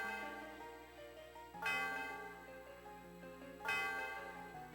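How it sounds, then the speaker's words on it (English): Bell rung in the Pokémon Black and White video game, two loud struck tones about two seconds apart, each ringing out and slowly decaying over a sustained musical backdrop. "We need to ring the bell"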